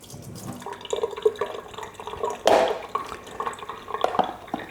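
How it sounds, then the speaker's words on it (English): Liquid drips from strained yogurt held over a kitchen sink, with scattered small drips and trickles and one brief louder splash midway, close and fairly quiet. "you want to hold this up over the sink because it may still drip a little bit"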